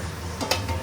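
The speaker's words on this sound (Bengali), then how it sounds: "বাট পাঁপড় তো পুড়ে যাচ্ছে মনে হচ্ছে" Papad frying in overheated oil, a soft continuous sizzle with a few brief crackles and a light clink partway through, fairly faint and close.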